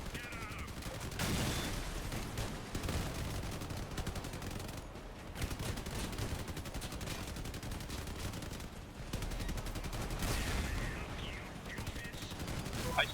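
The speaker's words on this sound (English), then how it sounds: "I'm racking up a lot of damage, and that's just machine guns" Machine guns firing in the vehicle combat game Crossout, long rattling bursts of rapid shots over a busy battle soundscape, with brief pauses between volleys and some talk mixed in.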